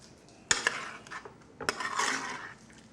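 A spoon stirring a garlic dish in a metal pot, close by, with two sharp clinks against the pot followed by a longer scraping, clattering stir, then quieter background.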